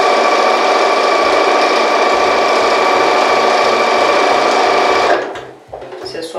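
A sewing machine stitches fabric for a patchwork fabric organizer basket, running loud and steady for about five seconds, then stopping, followed by faint quiet handling sounds.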